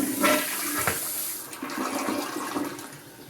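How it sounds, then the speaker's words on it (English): Toilet flushing in a manufactured house while the sink runs, a loud rushing, gurgling wash of water that swells then slowly tapers. "If I turn on this sink and then flush this toilet."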